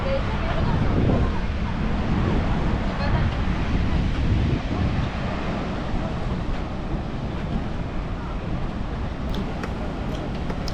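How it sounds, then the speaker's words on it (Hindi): Sea waves by the shoreline beside a mosque in Casablanca, Morocco, a steady broad roar of surf with heavy wind buffeting the microphone and faint voices underneath. "समंदर की लहरें"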